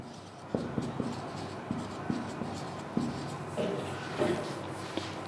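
Pen or chalk strokes scratch out a trigonometry problem in short, irregular bursts, close and fairly quiet, with soft taps between strokes and a faint room hum.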